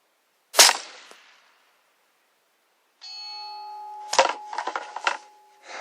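A .223 rifle fires one sharp, loud report at a 1000-yard range in gusty wind, and the blast quickly fades. After a pause, a steady ringing tone sounds with rustling handling noise.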